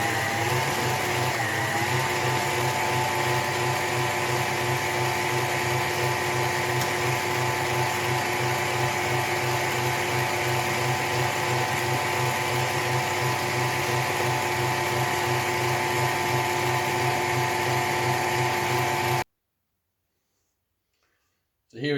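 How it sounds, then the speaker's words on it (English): An electric mixer whirs steadily while eggs are beaten one at a time into Christmas cake batter. The drone is loud and constant for about nineteen seconds, then cuts off abruptly into silence. "we just take an egg at a time, being careful not to drop any eggshells in there, and we just beat them in"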